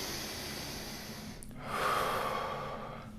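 A big breath drawn while holding a handstand: a steady airy breathing hiss swells in the second half, close and moderately loud, with no talking.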